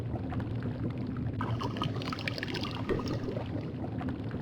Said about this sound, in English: I'll just pour the finished potion into one of these vials.